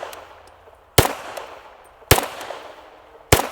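A handgun with a red dot sight fires at a target's center chest: three sharp, loud, close reports spaced about a second apart, each followed by a short ringing decay.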